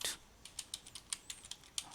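Rapid keystrokes on a computer keyboard entering an npm package install command, a quick uneven run of crisp, close clicks with short gaps between them.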